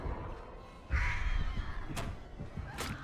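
Crows caw in a video game as the Artist's summoned birds fly out, giving a loud harsh caw followed by a couple of sharper calls over a steady background of game ambience.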